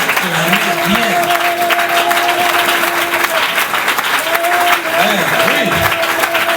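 A church congregation at a Sunday worship service claps and cheers in a loud, sustained wash of applause, with gliding electronic keyboard tones sounding over it throughout.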